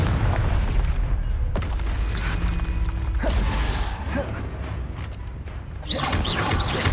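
Confringo spell blast in Hogwarts Legacy, a burst of booming explosive noise with crackling debris and mechanical clatter, followed by a quieter stretch and a second loud surge near the end.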